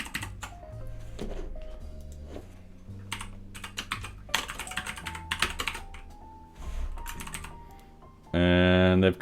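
Keys clack steadily on a computer keyboard while coding in Python and JavaScript, close and clear over background music, with speech mixed in, and a loud sustained tone near the end.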